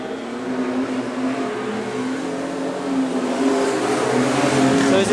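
Race cars in a heat race at Augusta River Speedway: a pack of engines drones and revs continuously, loud and close, with pitch rising toward the end as the cars accelerate past.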